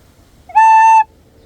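A recorder sounds a single clear note A, one steady tone of about half a second, loud and close in an otherwise quiet room.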